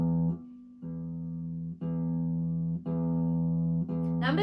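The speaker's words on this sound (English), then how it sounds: "Let's just play 4 bass E's." Four low E notes on the bottom string of a guitar, plucked with the thumb, sound one after another in a slow even rhythm, each ringing out briefly before the next, soft and close with no talking.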